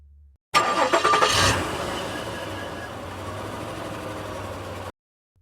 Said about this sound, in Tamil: இல்லை இல்லை, இது கார்.